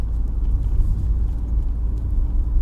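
A car engine drones steadily as it climbs a hill test route from Mount Tabor to Warley in Halifax, shifting from third into fourth gear, with a loud, continuous low rumble throughout and no voices.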